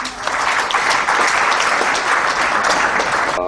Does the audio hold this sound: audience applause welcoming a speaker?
yes